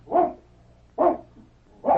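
A dog barks three times in a radio drama, each bark loud and close with roughly one-second gaps and quiet between, after a hard trek through brambles has left it plenty tired.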